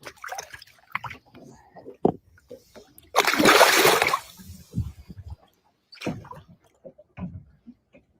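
An 11-pound-1-ounce tournament bass from a Major League Fishing BPT event is released alive and hits the water with one loud, second-long splash, amid scattered handling noises and nearby voices.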